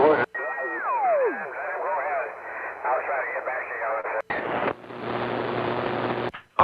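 CB radio transmission received over the air on 27 MHz through an old tube radio set, a steady band of noisy, warbling speech-like signal with a descending whistle at the start, cut off briefly and then resuming as hiss.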